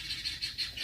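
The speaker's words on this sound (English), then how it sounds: "all the birds, those are guineas." Guinea fowl calling outdoors in a rapid, repeated series of harsh, squeaky cries, moderately close, with no talking.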